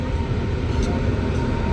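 A train pulling in to platform 2 at a dark Indian railway station, heard as a steady, loud, broad rumble that carries on unbroken, with no voices.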